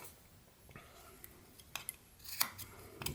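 A knife carving scooping cuts into wood while whittling a small evergreen tree, with soft scraping and a few sharp little clicks and shaves, close and quiet against faint background hiss.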